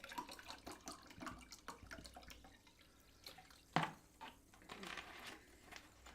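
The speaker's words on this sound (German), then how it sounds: "ich schenke mir einen Tropfen Wasser ein" Water trickles and splashes into a glass at a table during a live Viennese music session, soft uneven pouring with small drips and one sharper clink of glass midway.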